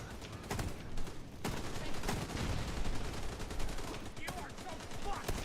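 Dense automatic gunfire rattles in a firefight in The Division 2, with rapid bursts and sharp individual shots layered over constant noise, fairly quiet overall and partly under a voice.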